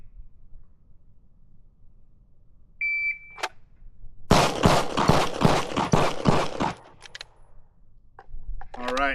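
A shot-timer beep sounds, then after a short pause a rapid string of loud pistol shots rings out at a range across multiple targets. Each crack is sharp and close, and the volley runs for a couple of seconds.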